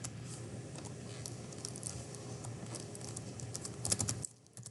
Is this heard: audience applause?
no